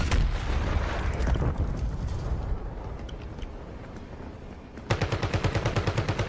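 Gunfire in a Call of Duty match, with a turret under attack: a sustained roar of rapid shots and heavy blasts that gives way to a sharp, evenly spaced burst of automatic fire, loud and close.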